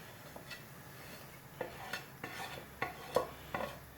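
Ingredients go into a pot of simmering Golden Curry Japanese sauce, making a series of soft clinks and stirring knocks spaced about half a second apart over a low background hiss.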